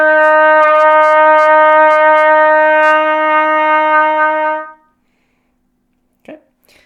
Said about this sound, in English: Our first note that we're going to learn this week is going to be the F note on the trumpet